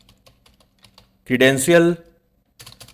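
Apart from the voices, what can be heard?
typing on a computer keyboard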